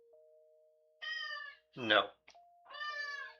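A cat named Brimstone meows loudly nearby, two drawn-out calls with a short word from a person between them, over a faint steady electrical hum.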